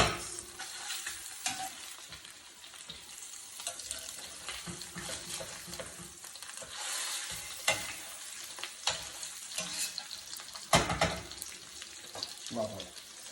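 Salmon sizzles in a frying pan while it is flipped, with steady crackling and spitting under scraping and clattering utensil noises and occasional sharper knocks against the pan.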